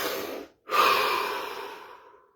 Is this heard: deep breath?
yes